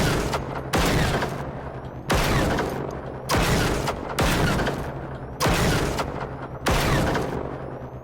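Gunfire in the video game Generation Zero comes as six heavy, booming bursts at an even pace, each loud and close with a short decaying tail before the next.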